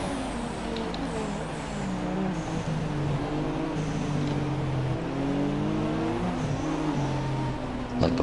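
A racing car's engine drones and shifts pitch as it is driven hard through right-hand corners, with steady rising and falling revs throughout and no talk over it.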